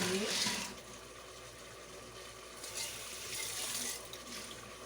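Water draining off soaked beans splashes into a sink, a steady close rush with a stronger burst at the start and a swell near the end.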